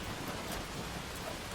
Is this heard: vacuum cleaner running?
no